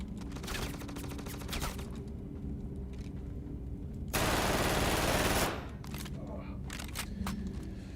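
In Star Citizen, a loud automatic weapon fires in rapid bursts, building to a dense, continuous stretch of gunfire before dropping back to scattered shots.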